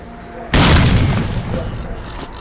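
A grenade goes off in the shooter game S.T.A.L.K.E.R. Clear Sky, a sudden loud boom with a deep rumbling tail that fades over about two seconds, with faint voices around it.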